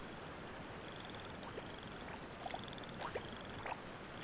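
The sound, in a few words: frog croaking in the video game Genshin Impact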